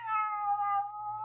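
A single drawn-out cat meow, clear and tonal, sliding slightly downward over about a second against a low background hum, as in an old radio drama.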